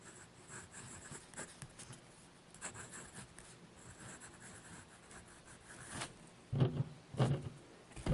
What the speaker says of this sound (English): So what do you say we do a writing sample?